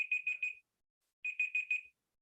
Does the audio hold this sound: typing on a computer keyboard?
no